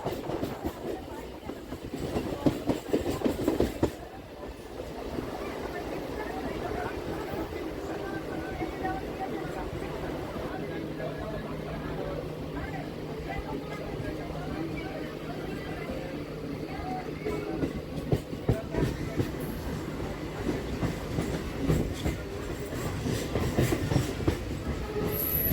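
A Bardhaman-Katwa local train running along the rails, a steady rumbling roll with rhythmic clickety-clack from the wheels and occasional brief squeals, heard from inside a carriage over the whole stretch.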